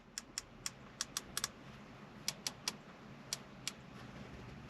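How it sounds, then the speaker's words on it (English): The knurled dials in an Audi A7 Sportback cabin turn with a quick series of crisp, faint clicks, some in tight pairs, spread irregularly over a quiet background. "They also make a nice click when you turn them."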